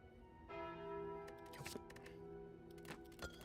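The Bell relic from the card game Slay the Spire rings with a bright, sustained chime. Several quieter clicks and taps from the game interface cut through the ringing as it slowly fades.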